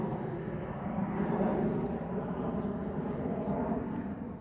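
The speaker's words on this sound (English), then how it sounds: "Gosh, there's a plane going over." A plane passes overhead as a steady, low, distant roar that holds through the whole stretch, heard outdoors by a shoreline.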